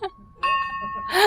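A bell at the top of a church bell tower in Prudentopolis rings with a sustained clear tone, struck once more with a bright, ringing peak near the end, heard close up.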